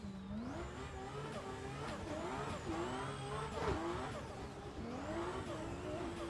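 A race car in a racing video game makes a steady engine whine that rises and falls as gears shift, with occasional tire squeal. It sounds moderately loud and continuous.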